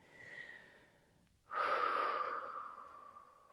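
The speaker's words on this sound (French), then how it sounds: "Encore une fois, inspirez profondément et expirez." Deep yoga breathing, a soft drawn-out inhale followed by a louder, longer breathy exhale through the mouth, close and intimate with no talking over it.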